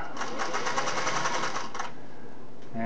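A Singer Model 401A sewing machine runs in a steady, fast mechanical chatter for nearly two seconds, then stops, leaving a quiet hum and a faint click at the end.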